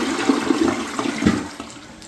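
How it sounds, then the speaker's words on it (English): A toilet flushes during a wax-ring repair, a loud rushing swirl of water that runs steadily close by for about two seconds. "let's keep flushing it"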